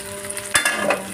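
Dried fish chutney sizzles and fries in oil in a pan, a dense steady crackle with a brief louder scrape of stirring midway.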